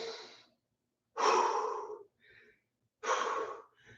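Heavy breathing after a round of a kettlebell workout: two loud, close, drawn-out breaths with a fainter one before and short quiet gaps between, no talking.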